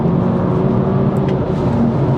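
BMW M2 on new Michelin PS4S tyres accelerating out of a corner, a steady loud engine drone with a faint whine held at a constant pitch, close and continuous with no speech.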